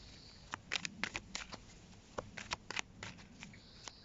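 Tarot cards being shuffled before a cross spread, a series of crisp, close riffling snaps in irregular bursts with short pauses, no talking.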